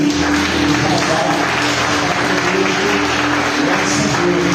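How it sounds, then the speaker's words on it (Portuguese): Church congregation applauding during an evening worship service, steady continuous clapping throughout with a sustained hum and faint voices underneath. "Eu queria que vocês aplaudissem ao Senhor pela vida do casal."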